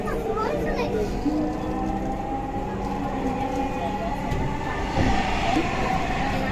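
Dhaka metro rail train running along the line, a steady loud rumble with rising whine, heard from inside the carriage with chatter and children's voices throughout.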